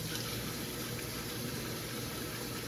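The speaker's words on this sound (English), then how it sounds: "You just rinse that off now." Soapy dishes are rinsed under a running kitchen tap, a steady soft hiss of flowing water that stays quiet and unbroken throughout.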